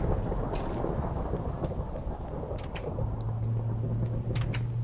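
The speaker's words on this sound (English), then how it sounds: "This is a very long thunderstorm." A long thunderstorm in the video game Minecraft rumbles in a dense, loud, low roll, with rain hiss throughout and a steady low hum joining partway.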